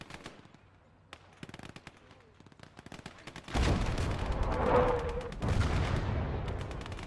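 Gunfire crackles in Gates of Hell, a WWII game set in Finland, with scattered sharp shots that give way to a loud, sustained roar of explosions and heavy firing.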